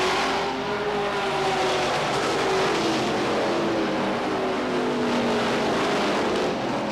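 Stock cars roar past in a continuous loud drone at Beech Ridge Motor Speedway in 1992, engines rising and falling in pitch as the pack races toward turn three.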